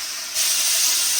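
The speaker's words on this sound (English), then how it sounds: "I'm going to put some steam on it and see what happens" A hat steamer releases a steady hiss of steam onto a hat with grosgrain tacked around its crown, starting softer and swelling louder after a moment, close and continuous with no voices.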